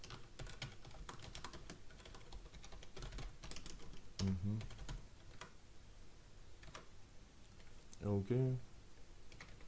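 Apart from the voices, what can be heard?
typing on a computer keyboard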